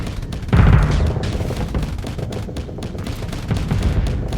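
Ship weapons fire in a Starsector space battle, a dense, continuous barrage of rapid gunshots and booms with heavier thumps at intervals, loud and sustained throughout.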